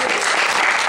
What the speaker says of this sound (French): Donc acclame d'abord pour toi-même.